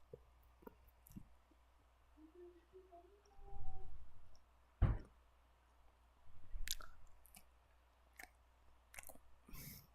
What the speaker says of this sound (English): Ignore the chewing.